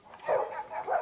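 A dog gives a short series of three quick muffled barks or yips, moderately close and fairly soft, with no speech over it.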